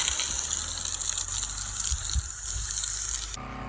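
Water gushes steadily from a shower head attached to a hose, spraying a broad continuous rush near by before cutting off abruptly near the end, with no talking.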